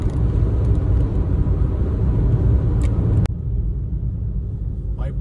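Car engine and road rumble while driving a ranch-country road toward Waiparous village in North Kananaskis, a steady loud low drone filling the cabin, briefly cut then resuming at a slightly lower level.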